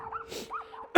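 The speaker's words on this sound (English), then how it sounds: "Got dogs barking, chasing us up and down the fence." Dogs behind a fence bark and yip at a passing electric mountain bike ride, a few short whiny barks at moderate distance over a faint steady tone, ending in a sudden loud burst.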